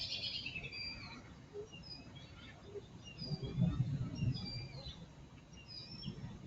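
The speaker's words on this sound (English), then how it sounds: "Just some lovely bird sounds. Love the chirp." Small birds chirp and tweet in brief high calls scattered across several seconds of quiet outdoor ambience, with a faint low rumble swelling in the middle.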